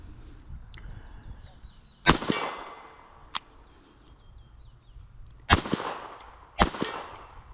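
Sharp, loud cracks from a Walther P22 .22 pistol, four separated shots, outdoors, over a faint background of birdsong.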